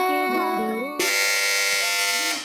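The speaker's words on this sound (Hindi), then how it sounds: "जी तो इस बार सबसे पहले बजर बजाई है टीम बी ने" A quiz-show buzzer goes off in a children's religious program: a sharp, loud electronic buzz starts abruptly after a short musical tone and holds steadily for over a second.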